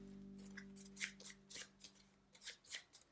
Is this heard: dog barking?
no